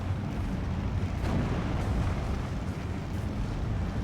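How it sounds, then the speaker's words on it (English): Rocket artillery barrage from Steel Division 2 rumbling through a dense, sustained low roar of explosions, loud and continuous with no clear separate blasts. "This is a really well placed rocket barrage of TZ."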